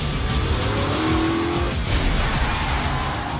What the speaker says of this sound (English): We're gonna pull this car in here at about 50 miles an hour